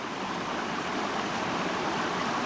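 Creek water running off a south-facing hillside and pouring into a culvert, a steady, full rushing wash that holds an even loudness throughout, close and with no voices.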